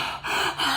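A voice imitates heavy breathing with a few loud, raspy gasping breaths in quick succession, close and breathy.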